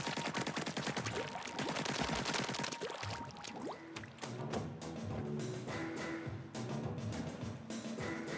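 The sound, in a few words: ink shooting in Splatoon 3 video game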